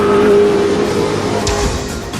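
Race car speeding past, a loud sustained engine whine that holds steady then sweeps down in pitch as the car passes close by.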